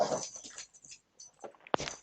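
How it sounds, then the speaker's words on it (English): Arlo the dog makes brief, close vocal sounds in a short burst, low whimpering and grumbling noises with a sharper yip-like peak near the end. "Will you tell Arlo to stop growling?"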